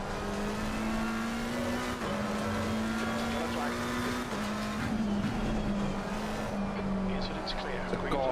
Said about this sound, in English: The car, this Ferrari looks pretty fast.